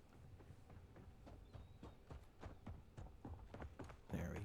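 Footsteps in a Call of Duty Warzone match approach as a steady run of soft, quiet thuds, evenly paced and growing slightly closer, ending with a louder clank.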